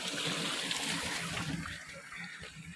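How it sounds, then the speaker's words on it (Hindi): A village mountain stream runs with a continuous close rush of water, steady and fairly loud throughout, with no speech over it. "ये पानी, धारे का पानी"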